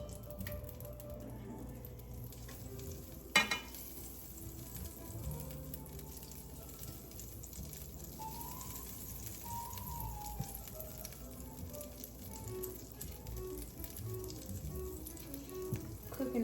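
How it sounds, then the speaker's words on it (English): Butter sizzles in a hot pan, a faint, steady hiss and crackle beneath other kitchen noise, with one sharp clatter early on. "so now we're gonna add our butter. Is it hot enough?"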